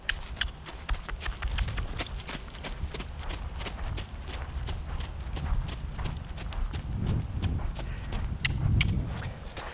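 A Standardbred horse trotting on a lunge line in an arena, with steady, fairly close rhythmic hoofbeats continuing throughout and some low shuffling in the background.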